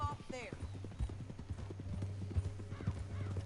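Horse hooves clip-clopping in a rapid run in the video game Red Dead Redemption 2, a quick rhythmic patter of hoofbeats with a brief whinny and a low steady hum beneath, quiet with some speech mixed in.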